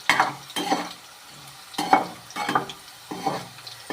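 Garlic and curry leaves frying in hot oil for a tamarind kuzhambu, a close sizzle broken by repeated scraping stirs about every second, with no voices.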